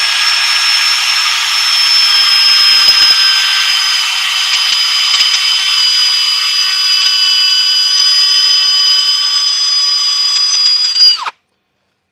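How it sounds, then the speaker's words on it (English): A power drill fitted with 120-grit sandpaper sands a project, giving a loud, steady high whine that runs without a break for about eleven seconds, then stops abruptly. "I'm going to grab my drill, and I've got some 120 sandpaper on here, and we're going to give this a little bit of a sand"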